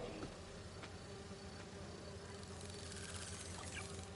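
Bees buzzing around a hive in Marvel's Spider-Man 2, a steady, low insect drone with a faint trickling wash layered over it, continuous and fairly quiet throughout.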